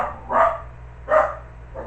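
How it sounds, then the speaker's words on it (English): A small dog barks loudly indoors, two sharp close barks about three-quarters of a second apart with the start of a third at the end, over a faint steady hum. "The dog is barking, which means Rachel's home."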